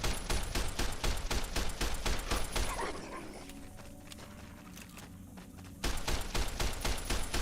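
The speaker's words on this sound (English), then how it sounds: "Service rifle is not the best weapon in the world" Rapid service rifle fire in Fallout New Vegas, quick repeated sharp shots in a steady rhythm, then a short lull of quieter background sound before the shooting resumes, loud and close.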